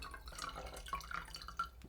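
Water being poured for filter coffee on a scale: a faint, thin trickle with small gurgling drips and a few bright plinks, quiet and close, with no talk.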